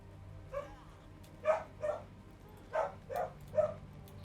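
A dog in the Guild Wars 2 game world barks six times in an irregular sequence, the barks moderately close and clear over a faint low background hum.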